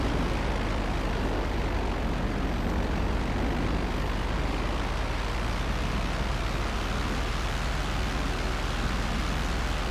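A plane flies in GTA Online, sending out a steady, loud, broadband engine drone that holds constant for the whole stretch with no speech over it.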